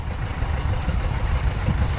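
A tractor engine idles at a plow day field event, giving a steady, close, continuous low rumble with even loudness throughout and no voices.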